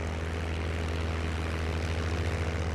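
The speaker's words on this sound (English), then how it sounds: "keep the throttle a bit forward so the engine doesn't cut out" A P-51 Mustang's piston engine and propeller in a flight simulator drone steadily with a loud, continuous low roar and no breaks or voices.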